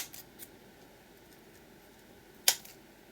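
Scissors cut material for a mixed media canvas, giving a few faint snips followed by one sharp, crisp cut, close in a quiet room.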